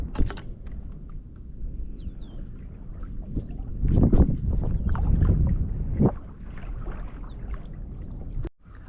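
Bonafide XTR130 inshore kayak pushed off a hard bottom in shallow Southeast Louisiana water, giving low scraping and sloshing thuds that swell mid-clip, with light wind noise and no talk.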